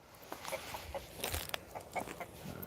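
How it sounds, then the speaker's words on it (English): A chicken gives soft, close clucks in a loose irregular series, mixed with faint pecking and crunching sounds, no talking. "Fucking chicken."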